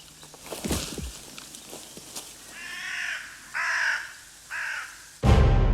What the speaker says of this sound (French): une corneille est posée sur une branche